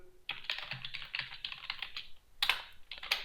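Close, crisp computer keyboard typing in irregular bursts, with a brief pause before a final flurry of sharper key strikes and no voice over it.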